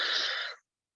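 A single deep breath drawn in during a guided breathing session, a soft airy inhale lasting about half a second before silence.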